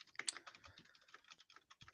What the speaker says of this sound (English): Jason's typing in the background.